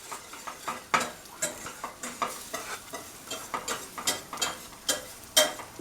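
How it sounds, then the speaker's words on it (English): A whisk scrapes and clicks rhythmically through a roux of flour and fat in a pan, quick repeated strokes close by and fairly quiet, with no voices. "Whisk that all together. We're going to make us a roux."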